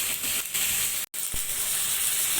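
Chicken sizzling in hot oil for Peshawari karahi, a steady close hiss of frying that runs almost without pause, cut by one brief silent gap partway through.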